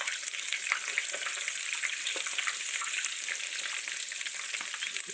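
Salmon cakes deep fry in hot oil, a dense, even crackling sizzle with tiny popping bubbles that carries on steadily and close throughout.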